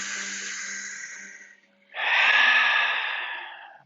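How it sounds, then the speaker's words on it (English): Two deep, audible breaths taken close to the microphone during a vinyasa yoga flow: a long airy inhale that fades, a short pause, then a stronger, rushing exhale. "Let's take 2 full breaths here."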